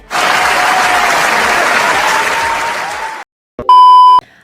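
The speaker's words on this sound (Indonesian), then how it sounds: "Wow, tepuk tangan, keren sekali." Loud studio-audience applause fills about three seconds of a talk show, then cuts off abruptly and a sharp electronic beep tone follows.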